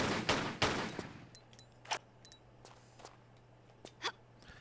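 Gunshots in the Tomb Raider: The Last Revelation video game: a quick double blast at the start, followed by scattered single sharp shots at irregular intervals over a low steady hum.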